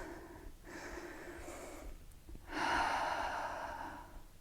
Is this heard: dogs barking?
no